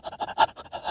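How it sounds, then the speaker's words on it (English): A dog pants quickly and steadily inside a car, a short burst of close, rhythmic breathy huffs. "she's still standing and panting"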